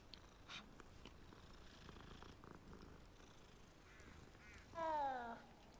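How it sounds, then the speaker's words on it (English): A cat purrs softly while being petted in the video game Hogwarts Legacy, a faint continuous rumble, then a brief louder animal call near the end; no one speaks. "I wanted to pet the cat first."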